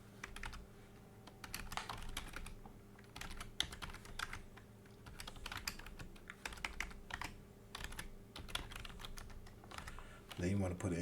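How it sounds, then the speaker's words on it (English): Computer keyboard keys clatter in a steady run of quick, irregular taps while an email address is typed in, close and moderately loud, with a brief burst of denser clicks at the end. "Then you want to just type in the email address that you want to send this to."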